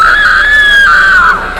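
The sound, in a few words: girl screaming loudly, story sound effect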